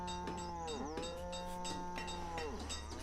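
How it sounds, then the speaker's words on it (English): Cattle lowing in the city-building game Banished, several drawn-out moos overlapping one another against steady background ambience, clear and fairly close, with no voices. "there's more cattle here"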